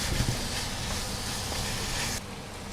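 Sausages tossed into a hot pan of clinging sauce, a loud steady broadband sizzle and hiss that drops off sharply near the end, no talking.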